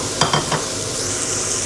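Onions and peppers for lamb maqluba sizzle steadily in a pan, a continuous close frying hiss with a few soft stirring scrapes near the start and no talking.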